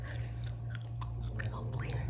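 Gum is chewed close up in a whispered ASMR setting, giving soft, wet, irregular smacks and clicks over a steady low hum, with no talking.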